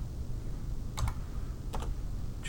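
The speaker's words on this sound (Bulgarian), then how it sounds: "в полето за търсене на Google групи да напиша името на Google групата" Brief bursts of typing on a computer keyboard entering a Google Groups search, two short clusters of key clicks over a low background hum.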